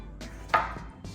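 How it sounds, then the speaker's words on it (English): A knife cuts through fresh tomatoes on a board, a few soft separate chops spaced out, one sharper thud in the middle, quiet and close with no talking. "So I'm just cutting these tomatoes right now."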